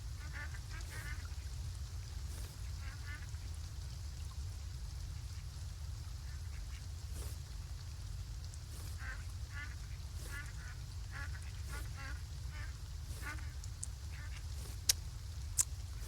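Ducks in the farming game Farm Together 2 quack softly in scattered small bursts over a steady low ambient hum, faint and repeated throughout.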